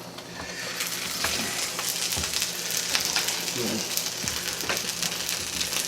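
Tuna quesadillas fry in a pan with a steady, close sizzle that holds at an even loudness throughout, broken by a few faint clinks and scrapes of a utensil.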